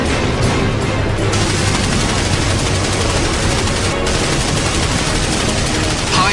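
Cannon fire from a Skyraider aimed at a MiG, high-explosive rounds loosed in long, dense, loud bursts that blur into a continuous roar, with brief breaks and booming low rumble throughout.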